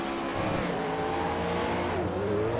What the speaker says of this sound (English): listen to that beautiful V8